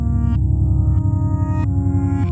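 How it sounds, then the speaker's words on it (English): A Chase Bliss and Empress Reverse Mode C pedal makes a reverse guitar soundscape. Sustained tones swell and cut off abruptly in a few backward phrases, loud and close, with no talk. "This can be used to create some really interesting reverse soundscapes"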